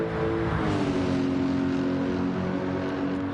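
A Lexus GT3 race car in Gran Turismo 7 on the Nurburgring 24 circuit holds a steady, loud engine drone at high revs, the pitch rising slowly and smoothly with no talk over it.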